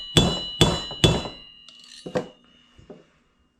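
Three sharp, ringing hammer blows strike a worn plastic-handled screwdriver being used to drive out a front hub bearing on a Honda 350X. Two lighter taps follow, close and alone apart from one short spoken word.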